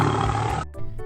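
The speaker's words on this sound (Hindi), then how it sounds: "यह सोचकर उसने एक तेज दहाड़ लगाई" A lion's loud, deep, rough roar used as a sound effect in a narrated story, close and dominant for over half a second before breaking off into a short, quieter grunting tail.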